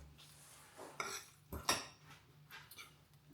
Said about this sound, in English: I am just gonna give it another mix so the cheese is all in there.